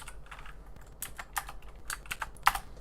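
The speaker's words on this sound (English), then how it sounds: "I'm typing it so everyone can see us." Fingers tap on a computer keyboard in quick, irregular bursts of light clicks, close and fairly quiet, with no talking.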